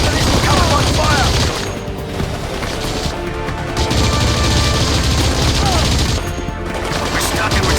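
Heavy gunfire and explosions in Battlefield 2: Modern Combat on PS2, with dense machine-gun bursts and booming blasts that stay loud and continuous throughout, mixed with voices.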